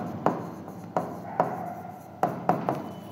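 Pen strokes scratching across paper at close range, a series of sharp taps and short scraping lines with brief pauses between words.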